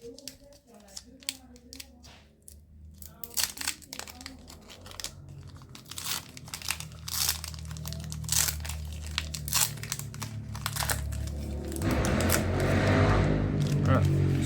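Pokémon Go booster packs are torn open by hand, with crinkling and ripping of foil wrappers coming in close bursts, then a steadier rustle of handling and a voice talking over it.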